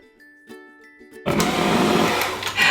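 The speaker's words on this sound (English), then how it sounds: "we're gonna cream the butter and the sugar together" An electric mixer creaming butter and sugar for chocolate marshmallow cookies kicks on after a quiet stretch of faint clicks, then whirs loud and steady right up close.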